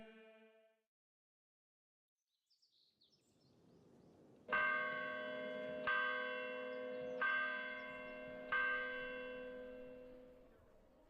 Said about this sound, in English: The 3 o'clock bell had rung, and it's time for Misa.